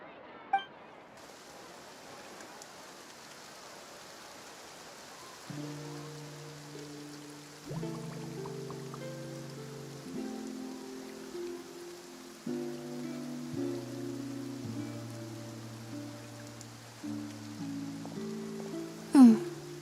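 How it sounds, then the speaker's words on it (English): Steady rain falling in the Fontaine region of the Genshin Impact video game, a soft continuous hiss that carries throughout while gentle musical tones come in partway through, with one sharp splash near the end. "Looks like rain."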